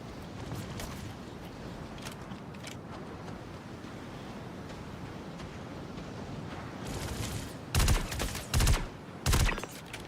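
Gunfire in Star Citizen: scattered distant cracks over a rumbling background, then three loud close bursts of shots near the end, without talk.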